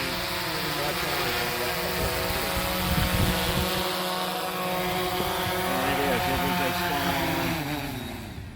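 A DJI Phantom 4 Pro V2 drone descending for a precision landing in an open field, its steady high-pitched propeller whine loud and continuous, holding pitch throughout with a slight fade at the end.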